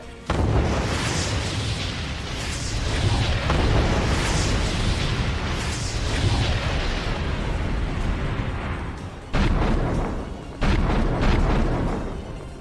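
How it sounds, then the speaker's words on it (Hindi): Heavy Russian bombardment in Ukraine's Donetsk region, with deep rumbling explosions and booms rolling continuously, cut by brief gaps before further loud blasts. "रूसी सेना ने उत्तरी कॉन्स्टेंटिनोवा में भारी बमबारी की है।"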